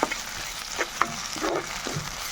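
Garlic paste frying in a pan for a raw mango curry, giving a steady close sizzle with occasional sharper crackles and stirring scrapes throughout.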